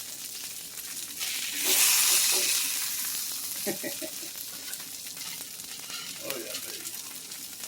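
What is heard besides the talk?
buffalo chicken burgers sizzling on a grill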